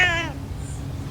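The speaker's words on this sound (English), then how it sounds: "Why are there so many cats here?" A single close cat meow with a rising, harmonic-rich tone, lasting a fraction of a second over a steady low rumble of background noise in a yard.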